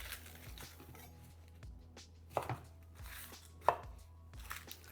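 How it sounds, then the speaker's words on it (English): A kitchen knife working through an onion on a cutting board while prepping mirepoix for homemade stock, a few sparse, distinct close-up knocks and cuts against quiet room tone. "We're just going to top and tail the onion and take off the skin"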